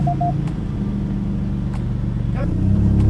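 A car engine just started, idling with a steady low rumble under a couple of short chimes, with a person speaking nearby.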